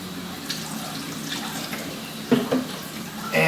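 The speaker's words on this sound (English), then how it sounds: "I'll put some more water in." Water runs and splashes into a container of kalkwasser paste, a steady close trickle with a couple of brief louder splashes near the end and no talking.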